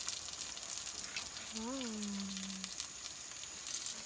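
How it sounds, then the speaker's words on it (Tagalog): Food frying in a pan in a Philippine countryside kitchen, a soft continuous sizzle heard from close by, with a brief voice exclaiming and a faint whistle-like tone partway through. "Ayan po, piniprito po ni nanay."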